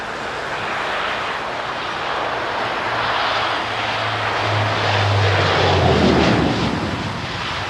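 Dash 8 turboprop aircraft arriving at a wintry London Heathrow, a steady broad engine roar with a droning propeller hum that grows louder toward the middle before easing, loud and near, no talk.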